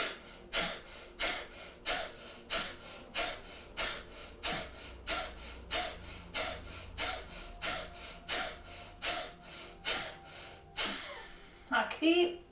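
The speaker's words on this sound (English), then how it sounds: "that idea of blowing through your nose as if you're trying to get something out of it into your hand" Rhythmic forceful breaths blown out through the nose in a yoga breathing exercise, around twenty sharp evenly spaced exhales close up, with a deeper inhale near the end.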